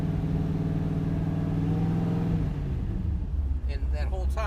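An engine revs up loudly while held in first gear, its 4L80e transmission failing to shift, a rising steady drone that climbs then drops away as a voice starts talking near the end.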